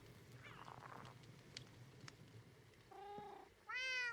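Two cats in a modded Minecraft world (Enigmatica 6) give short meows, rising and falling. They sound faint and scattered at first, then a louder, drawn-out meow closes the stretch, with no talk.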